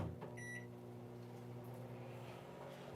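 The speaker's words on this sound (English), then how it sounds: "And I'm going to put it in the microwave" A microwave oven hums steadily with a low droning tone, warming a bowl of hair conditioner, and a short series of beeps sounds near the start.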